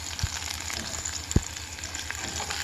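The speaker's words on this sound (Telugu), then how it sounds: "పచ్చిమిర్చి ముందుగా వేయించుకోవాలి" Green chillies frying in a pan for a Telugu coriander chutney, giving a steady close sizzle with a couple of brief sharp pops and faint stirring, no talk.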